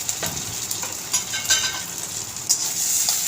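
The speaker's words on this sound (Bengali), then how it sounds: "পেঁয়াজটা একটু যখন ফ্রাই হয়ে যাবে, এর মধ্যে আমি আদা রসুন বাটাটা দিয়ে দিলাম।" Onion with ginger-garlic paste frying in oil in a pan, a close steady sizzle with bursts of crackle and occasional stirring scrapes.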